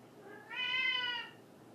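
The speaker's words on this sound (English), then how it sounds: "Mia she's our elderly cat." An elderly cat gives a single drawn-out meow, fairly close and moderately loud, against quiet room background.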